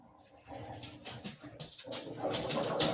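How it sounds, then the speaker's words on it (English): Dogs in a room making short, excited yelps and whimpering barks that build in loudness over a few seconds, close and busy. "These dogs shush for just 1 second. Shut them dogs up."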